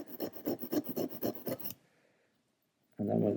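A blade is rubbed in quick repeated strokes across a sharpening stone, about a dozen close rasping passes, then a pause of near silence before another loud scrape begins.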